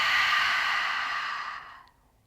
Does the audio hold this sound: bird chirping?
no